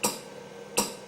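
Two crisp, evenly spaced ticks from a Pulse Energy Replenisher (PER) machine used in animal treatment, close and clear over a faint background hum, about three-quarters of a second apart.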